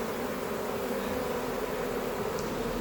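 Honey bee swarm buzzing steadily around a hive in a garden, a dense continuous drone close by with no break and no voices.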